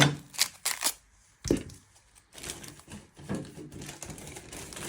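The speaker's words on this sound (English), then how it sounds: "You're first going to chop your ends off." Knife chopping the ends off an onion on a cutting board, several sharp close chops in quick succession with a heavier cut midway, then softer scraping and handling sounds.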